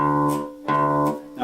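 An open D string on a bass guitar is plucked twice, each note ringing and sustaining clearly before a softer third pluck begins, with no voices.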